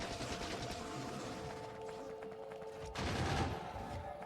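Gun turrets firing in Factorio, a rapid, sustained rattle of automatic shots with a steady tonal hum underneath, growing louder toward the end.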